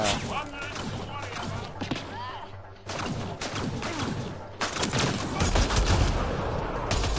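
Gunfire in the video game Mass Effect Andromeda: a dense, continuous run of loud shots and impacts, rising louder in the final seconds, with busy game sounds and possible voices mixed in.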